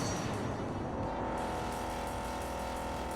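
Toy diecast race car speeding along a Hot Wheels Unleashed track, a steady loud engine drone with a constant high whine that holds through the whole moment, no talking over it.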